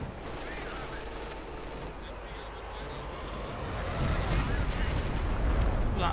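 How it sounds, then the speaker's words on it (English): Distant artillery and gunfire rumble through a Company of Heroes 2 match, growing louder and denser toward the end, with commentators talking over the battle. "Got artillery to cover up the retreats."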